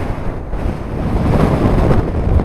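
Choppy sea surges and gusty wind roar during Storm Babet at Arbroath, a loud continuous rumble of waves and buffeting wind on the microphone with no voices.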